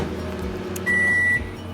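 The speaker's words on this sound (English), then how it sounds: "now you're going to put it in the microwave so it will melt" A microwave oven hums steadily while melting hot cocoa powder, and partway through a high steady tone sounds for about half a second over the running hum.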